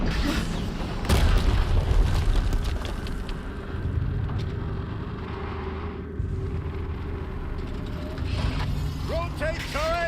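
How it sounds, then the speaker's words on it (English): A video game explosion from Horizon Zero Dawn sounds as a deep boom with rumbling debris, followed by continuing low rumble and mechanical noise, and a voice speaks over it. "Another explosion."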